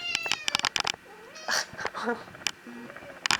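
A pet cat meows several times in short, clear, rising and falling calls, close by, between bursts of a person's affectionate talk.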